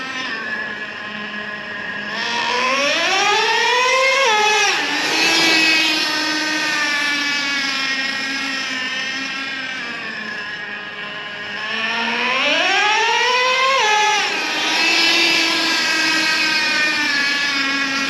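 A Traxxas Revo 3.3 nitro RC truck engine screams at high pitch, its tone rising steeply as it revs, then dropping as the two-speed transmission shifts gears, twice over, loud and close.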